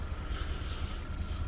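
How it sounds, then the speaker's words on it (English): A small fishing boat's engine idles while warming up at sea off the UK, giving a low, steady rumble mixed with wind buffeting, close and continuous, with no speech. "warming the engine up nicely, getting her ready."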